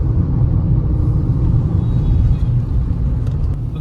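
Tata Punch with an automatic AMT gearbox drives along, a steady low engine and road rumble with tyre noise heard from inside the cabin, loud and continuous without speech.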